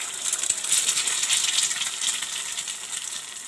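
An egg frying in a pan, part of a breakfast being cooked with onions, green chilies and tomatoes, gives off a steady, close, crackling sizzle that runs unbroken from start to finish with no talk.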